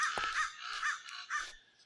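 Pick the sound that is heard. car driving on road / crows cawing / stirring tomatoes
crows cawing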